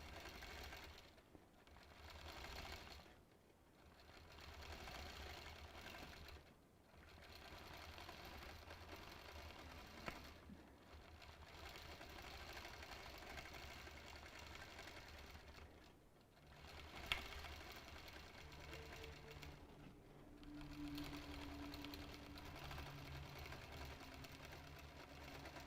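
A sewing machine stitches scallops along a wavy quilt border, a continuous fast whirring hum in long runs broken by brief pauses, close and steady, with no talking over it.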